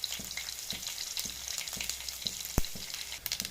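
Crushed garlic and green chillies frying in oil in a pan for a gongura boti curry: a steady close sizzle with periodic soft stirring taps and one sharp clack near the end.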